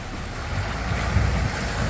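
A 4WD pushing through a deep water crossing on a remote outback track, a dense rushing wash of water and engine rumble that swells slightly, with no voices.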